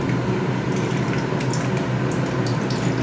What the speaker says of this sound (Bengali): কড়াইতে সর্ষের তেল দিয়ে দিয়েছি, এই তেজপাতা দিয়েছি এবং সর্ষের তেল দিয়ে দিলাম